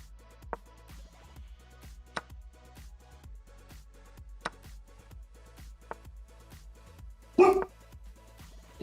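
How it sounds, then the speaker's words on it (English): Dogs bark back at another dog in a hallway: a string of fairly faint, evenly spaced barks, then a louder, closer burst of barking and yelps near the end, with no talking. "There's a dog in the hallway barking, so they're barking back at the dog"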